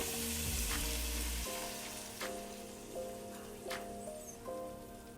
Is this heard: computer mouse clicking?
no